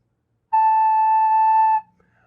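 A recorder sounds a single sustained note A, steady and clear for just over a second, then stops, leaving near silence.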